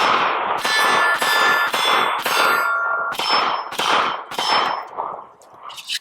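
Ringing metallic clangs come one after another as 7.62x25 Tokarev rounds from a Zastava M57 pistol strike steel targets. Each impact is bright and loud, with about eight or nine hits spaced fairly evenly and no voices.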